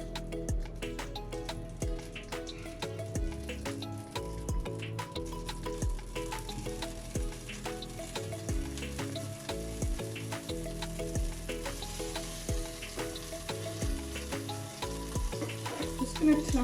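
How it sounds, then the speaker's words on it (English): Golden syrup heats and bubbles in a pan while crunchies with chocolate and pecan nuts are made: a steady close sizzling fizz that runs throughout, with soft rhythmic music underneath. "just getting all this golden syrup in there."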